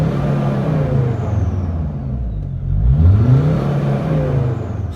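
A Mercedes Sprinter van with a turbo underboost fault accelerates, its engine droning low and steady with a rising whine, growing slightly louder midway; no talk.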